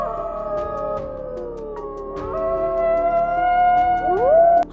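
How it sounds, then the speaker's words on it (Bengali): A jackal howls in the distance, long wavering tonal cries overlapping and rising at the end, clear over a quiet background. "দূর থেকে ভেসে আসা শেয়ালের ডাকে"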